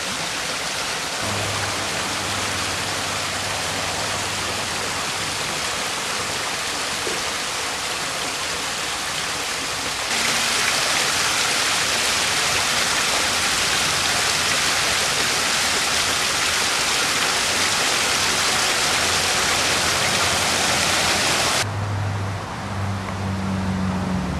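Steady broadband rush of water heard from a moving car on a road trip, loud and continuous, swelling louder in the middle stretch before easing back, with faint low engine rumble beneath and no talking.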